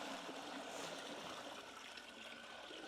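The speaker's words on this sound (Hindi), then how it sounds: "ये लगभग हमने 10 लीटर के करीब पानी डाला है" Roughly ten litres of water pouring steadily into a large cooking pot over a fire, a continuous close rushing splash that holds level throughout without pause.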